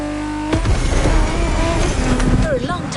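A car drifts in The Crew Motorfest racing game, its engine revving loud and close with tyre squeal and wavering pitch, partly under a voice.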